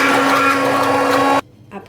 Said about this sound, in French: Je prends mon mixeur.